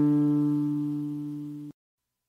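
A single D note plucked on a guitalele rings out clearly and decays smoothly for under two seconds before stopping abruptly, alone with no voices.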